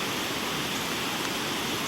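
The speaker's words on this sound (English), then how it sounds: "The creek is roaring. It's up over the dam down there." A flooded creek, swollen during Hurricane Helene, roars over a collapsing dam, a dense, steady broadband rush of water with no break.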